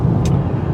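Steady road noise from a new Renault Zoe electric car cruising around 70 in light traffic with trucks and vans, a continuous low rumble inside the cabin with one brief hiss.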